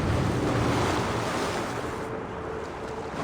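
Broad, steady wash of water and surf-like noise in the Assassin's Creed Valhalla video game, a pool of meltwater from ice, loud and continuous with no distinct splashes or talk.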